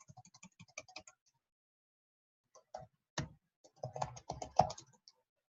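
Typing on a computer keyboard: bursts of quick, close, crisp key clicks with a pause in between, then a denser flurry of keystrokes, with no talk.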